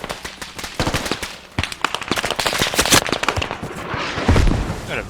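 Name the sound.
gunfire from an enemy vehicle in a video game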